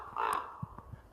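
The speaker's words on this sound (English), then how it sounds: "bird is doing his sound there" A crow caws once outdoors, a harsh nasal call at moderate distance, followed by a few faint soft knocks against a quiet background.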